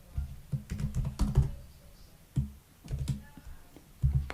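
Rapid, uneven keystrokes on a computer keyboard while code is typed into Xcode, clustered in quick bursts with short pauses, close and fairly loud.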